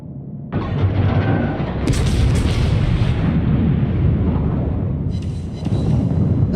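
Naval gunfire and shell impacts in a World War II battleship video game, with the Texas and Nelson in play: a loud, continuous rumble of booming cannon blasts and explosions with sharp bursts layered over it, running steadily throughout.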